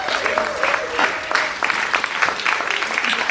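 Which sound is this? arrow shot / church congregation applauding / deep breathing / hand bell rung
church congregation applauding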